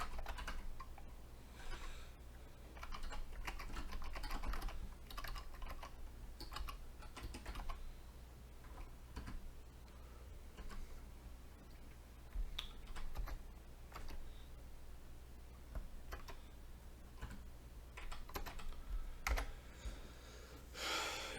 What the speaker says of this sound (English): If you're watching our screen as we type, you can see just how hard to get used to this new keyboard is.